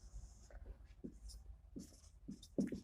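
Pen scratching out the distance formula during a Class 11 three-dimensional geometry lesson: quiet, close strokes in short irregular bursts, with soft pauses between marks.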